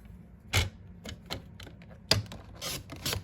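A paper trimmer slices through cardstock while a sympathy card is being made, giving a few short, crisp cutting strokes close by at an even pace, with quiet pauses between them.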